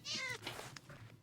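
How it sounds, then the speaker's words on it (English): A cat meows in Minecraft, one clear close meow followed by softer short mews, faint and alone. "I think there's a kitty on here."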